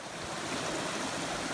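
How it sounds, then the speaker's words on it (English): Steady rushing water of a mountain creek spilling down the side of a mountain along a high trail, a continuous broadband wash with some wind noise, close and fairly loud throughout. "I've passed maybe 10 creeks like this coming out of the side of the mountain"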